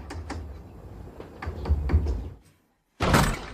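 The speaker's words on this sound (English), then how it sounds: "I've been knocking forever, no answer." Knocking on a door: a run of firm raps at close range, a short silence, then a heavier burst of bangs against the wood.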